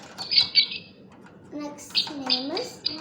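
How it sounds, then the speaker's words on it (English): Two small pet birds chirp and squawk in short, bright bursts indoors, fairly close, while a person talks over them. "Hello friends, see my pet bird."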